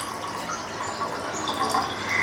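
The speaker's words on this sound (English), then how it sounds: "I am going to pour 1 cup of milk, and here you can see I am pouring it" A cup of milk poured into boiling water gives a soft continuous splashing and gurgling. It is close but quiet and runs steadily throughout with no voices.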